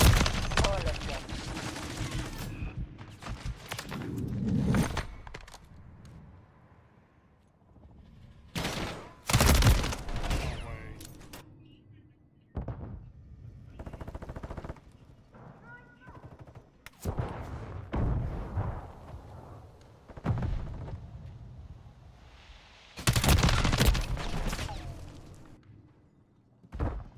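Gunfire in a Call of Duty MW3 team deathmatch, with bursts of automatic fire and heavy blasts in irregular clusters, loud and close, separated by quieter gaps of ambient rumble.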